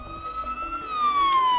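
Police car sirens wail in the Shin Megami Tensei: Devil Survivor video game on 3DS, a steady wavering siren tone sliding slowly downward over a faint background hum.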